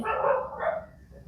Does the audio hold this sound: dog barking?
yes